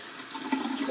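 Water runs steadily from a van bathroom sink tap and splashes over the edge of a shallow basin, a soft, continuous hiss and patter close by with no talking.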